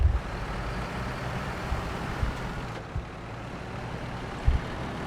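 Low, rumbling engine drone of an all-wheel-drive truck in SnowRunner, steady and continuous with a few dull thumps and knocks from the vehicle, no voices.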